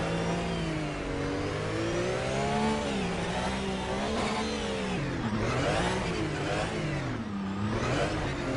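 A racing car engine in a Nordschleife 24-hour race video game revs up and down in repeated waves, the pitch climbing and falling through the gears, loud and continuous with no talking.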